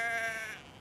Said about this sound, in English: That's where you get depressed sheep, up north.